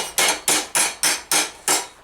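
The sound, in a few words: raising hammer forming steel armor elbow couter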